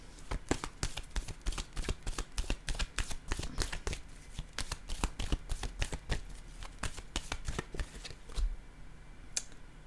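A deck of playing cards handled and set down in a rapid series of crisp, close snaps and flicks, sharp and dense for most of the stretch before thinning out near the end.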